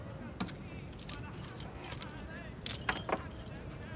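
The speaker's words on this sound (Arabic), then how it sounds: "هاتي سلسله مفاتيحك القديمه" A key chain with several keys jangling and clinking in short bursts, close up, over a low steady background hum.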